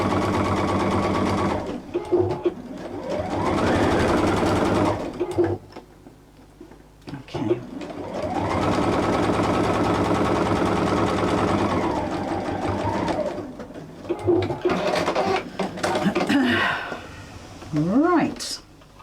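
A sewing machine with a walking foot stitches fabric pieces together in several loud bursts of rapid mechanical whirring, separated by pauses with handling noise and a person talking.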